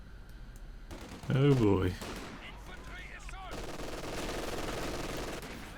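Machine gun fire rattles steadily in the background of a Company of Heroes 2 battle, a sustained, moderate burst under a voice that talks briefly near the start.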